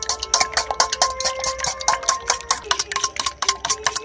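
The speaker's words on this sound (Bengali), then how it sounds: "এখানে আমি 3টে ডিম ফাটিয়ে নিয়েছি, একটা কাঁটা চামচ নিয়েছি, খুব ভালো করে এটাকে ফেটিয়ে নেব।" Three cracked eggs whisked briskly with a fork in a bowl, a close, rapid rhythm of light clinking taps and sloshing strokes repeating steadily throughout.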